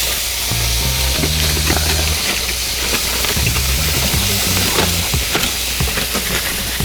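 Baby back ribs sizzle and crackle loudly and continuously on a Big Green Egg grill as they are flipped, with steady frying hiss and scraping of tools against the grate.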